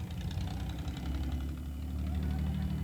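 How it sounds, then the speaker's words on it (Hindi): Tractor engines rumbling at a farmers' tractor rally on the KMP Expressway, a low steady idling drone with some knocking vibration, fairly faint, with faint voices. "रैली में सैकड़ों ट्रैक्टर के साथ हजारों किसान मौजूद हैं।"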